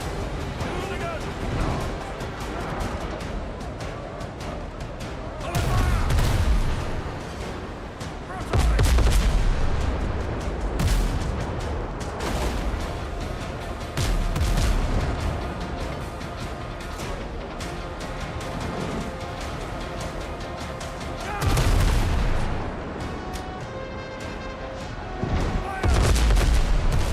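Ship cannons firing in the naval video game WindRose, several heavy booms at irregular intervals over a continuous bed of game music and noise, with voices talking throughout.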